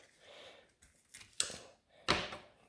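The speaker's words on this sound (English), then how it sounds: "Let's cut that open real quick." A knife cuts open a hollow morel mushroom in two short, crisp slicing crunches, close and fairly loud against quiet background handling.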